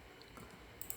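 A couple of faint, quick mouse clicks near the end while modeling in Blender 3D software, in a quiet room with no talking.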